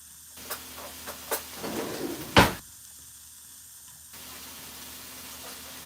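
Butter hitting a hot pan gives a brief hissing sizzle that swells to one loud burst near the middle of the clip. A few small ticks come first, then a fainter steady hiss carries on after.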